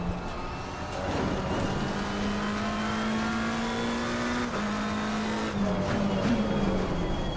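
A McLaren 720S GT3 race car in Assetto Corsa Competizione drones at a steady high engine pitch, loud and continuous, dipping briefly near the end as revs change and tyres scrub.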